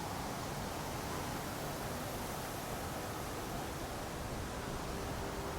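A storm rages in the video game Horizon Forbidden West, a steady, dense roar of wind and rain that stays even and loud throughout with no talking.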